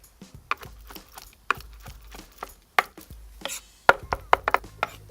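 A knife chops green pasilla peppers on a board in an outdoor kitchen, with about a dozen sharp, close taps in an uneven rhythm that bunch together near the end.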